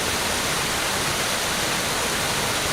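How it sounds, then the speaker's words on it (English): Waterfall effects from the Lord of the Rings Online video game, a dense, steady rush of falling water that fills the whole span at constant loudness, with no voices. "Reason why I removed the waterfall effects"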